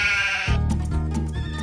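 Sheep bleat in a paddock at Parkes, Australia: one long wavering bleat, then a lower, throatier call, both close and clear.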